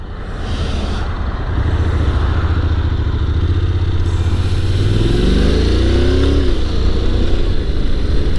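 A Honda NC750X DCT motorcycle riding along with a steady engine drone and wind rush, the engine pitch rising and falling through a shift partway through.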